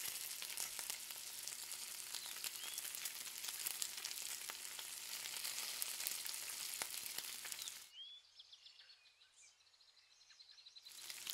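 Shrimp with squeezed lemon crackle on a wood-fired grill, a dense, steady sizzle with popping for about eight seconds before cutting to a quieter stretch with faint chirping birds and light crackle.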